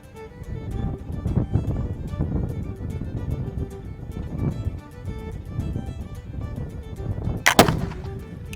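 A 1766 Charleville smooth bore musket fired at an outdoor range: one sharp, loud report near the end, over a quieter rumbling background.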